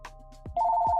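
A telephone begins ringing partway through, a loud, steady electronic tone that comes in after a few soft knocks and continues to the end.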